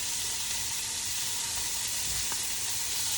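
Veggies and bacon sizzle steadily in a pan for a frittata, a dense, even frying hiss close up, with a faint low knock partway through and no talking.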